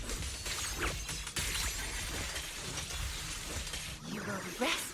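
An ice shatter attack effect in the video game Zenless Zone Zero bursts in a dense noisy crash with glassy crackle, layered over game music and combat effects, with a character's voice calling out.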